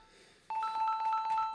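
A telephone rings in on a radio-style call-in show: a steady electronic tone begins abruptly after a quiet moment and holds, overlaid by a repeating warbling ring pattern, loud and close, with no talking.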